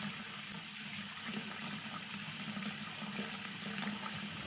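Steady hiss of water running from a fully opened tap through a tankless water heater, a constant even rush with no voices.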